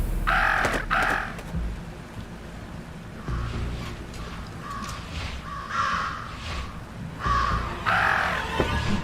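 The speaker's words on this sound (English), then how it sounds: "Talk about a murder of crows." Crows caw loudly in repeated harsh bursts, a pair of calls near the start and more clustered calls through the middle and end, over a steady low rumble of background noise.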